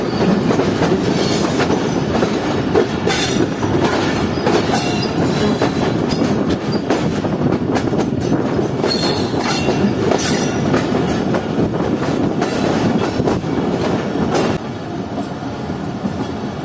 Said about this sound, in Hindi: हमारी ट्रेन अब इस वक्त अप्रोच कर रही है